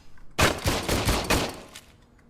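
Rapid bursts of gunfire in the video game Robocop: Rogue City, a loud fusillade of close shots lasting under two seconds and then trailing off.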